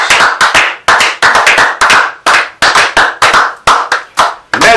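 Congregation clapping in acclamation at a prayer service, loud bursts of hand claps in quick irregular clusters that start and stop repeatedly, close and without speech.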